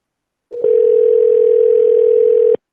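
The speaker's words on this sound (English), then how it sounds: "Someone's calling plus Someone joined." A steady electronic call notification tone: one loud, pure, sustained beep lasting about two seconds, alone and with no talk.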